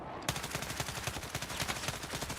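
Rapid automatic gunfire from a video game, a dense run of sharp shots that starts abruptly and keeps rattling loud and close for the whole stretch.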